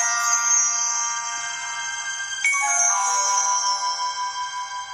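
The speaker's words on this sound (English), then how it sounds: "Here I have my push notification." A SmartThings push notification chimes on a phone when a multipurpose sensor reports mail delivered. It is a bright, tonal melodic alert with a pitch shift halfway through, playing clearly on its own and ringing out over about five seconds.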